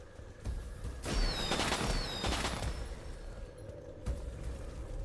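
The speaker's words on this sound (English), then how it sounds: "What's with the fireworks?" Fireworks in the fantasy strategy game War for the Overworld: rapid crackling bursts and popping reports clustered over a few seconds, with whistling rising tones, then fading to a softer rumble before another short burst, loud with no talk.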